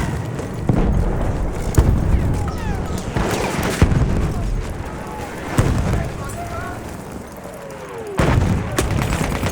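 Explosions and gunfire in the World War I shooter Battlefield 1 as a bomb is thrown: repeated heavy booms and crackling shots in a dense, continuous battle din, with a voice talking over the chaos.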